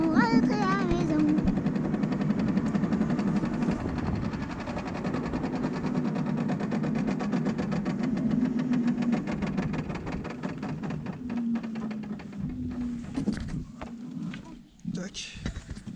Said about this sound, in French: Le petit véhicule Rosalie 4 places qui marche drôlement bien